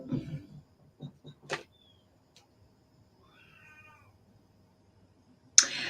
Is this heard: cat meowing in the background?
yes